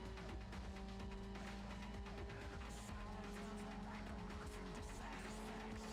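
A race car roars through Need For Speed Underground, a steady engine drone layered with tire squeal and skidding, quiet and continuous throughout.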